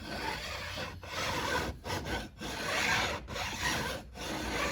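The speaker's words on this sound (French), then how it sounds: "ça lime uniquement les frettes, mais le bois, il va pas trop se faire agresser" A metal file rasps steadily back and forth across guitar frets, producing gritty, close scraping strokes broken by a few brief pauses.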